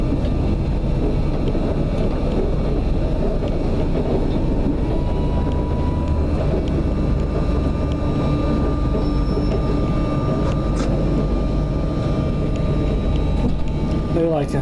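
A train pulling into Taunton station, a steady, loud rolling rumble with continuous low drone throughout, a few faint squeals near the end as it slows.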